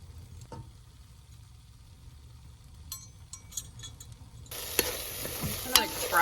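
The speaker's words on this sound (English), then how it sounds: "I'm going to fry it." Onions, ginger, cinnamon and other seasonings go into a pan in a van kitchen. Quiet stirring and clinks come first, then a sudden loud sizzle of frying takes over near the end.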